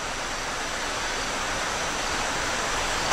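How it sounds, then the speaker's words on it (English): A river at Johnstown flows past in a steady, broad rush of water with no breaks, a continuous hiss that holds the same level throughout and has no voices over it. "the river doesn't look too bad today"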